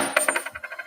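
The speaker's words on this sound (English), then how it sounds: "Coin flip. I'm going to pick heads." A coin lands on a hard surface with a bright metallic clink, then bounces and rattles in quicker, fading rings as it settles.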